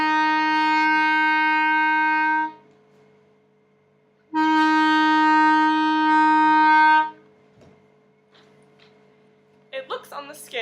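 Wind instrument sounding an F note with only the thumb hole open: two long, steady, clear held tones separated by a pause, followed by brief soft handling clicks and some quiet talk.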